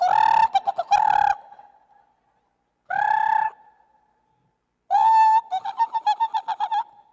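Domestic pigeons, kept as a hobby collection, give three bursts of cooing calls, the last ending in a rapid string of pulsed coos; close and clear with no talk.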